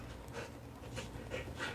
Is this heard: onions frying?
no